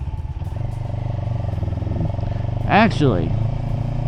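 A 700 cc motorcycle engine idles at low RPM with a steady, close rumble throughout, while someone speaks briefly over it.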